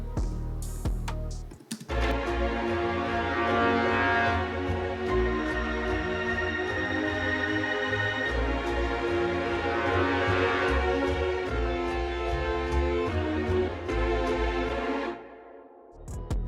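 A dark orchestral sample of low brass sustains stacked in several octaves of A sharp, a dense, swelling chord that holds steadily after a short opening burst and fades at the close.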